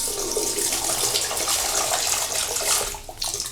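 Water runs steadily from a bathroom tap in an abandoned mansion, a continuous close splashing rush that holds throughout with a brief dip near the end.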